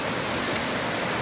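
Floodwater pours over flooded rice fields, a loud continuous broadband rush with no breaks and no voices.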